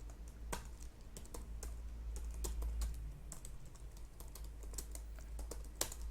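Typing on a computer keyboard while writing C++ code: a steady run of crisp key clicks at a quick, uneven rhythm, close and clear over a low constant hum, with no talk.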